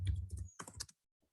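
Keys clatter on a computer keyboard as HTML code is written in a text editor. A quick, close burst of crisp clicks lasts under a second, then it goes quiet except for one faint tap.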